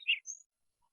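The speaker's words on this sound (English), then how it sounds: "He's got very loud birds." Small birds chirp loudly in the background of a call, two quick bright tweets close together and then silence.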